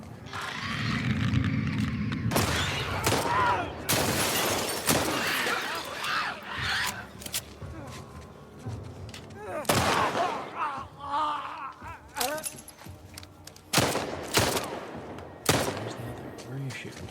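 Video game gunfire from Tommy in The Last of Us Part 2, No Return mode: a string of loud, sharp broadband shots at uneven intervals, mixed with talk and busy in-game combat noise.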